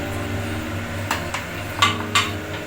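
A metal lid clinks onto a pan of kofta curry, with a few sharp, close knocks and clatters scattered over a low steady background hum.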